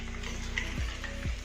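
Chicken pieces frying in oil over a medium-low gas flame, giving a steady, close sizzle that holds throughout, with a couple of low stirring or pan clunks near the end and no talking.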